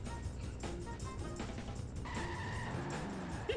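Car crashing and skidding in The Simpsons: Hit & Run, with engine drone under squealing tire tones and a few impact thumps, fairly quiet and continuous.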